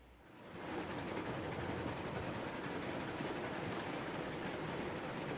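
A train in the Railroads Online video game rumbles in and swells from faint to a steady, broad roar within the first second, then holds as a continuous low rolling noise with no talking.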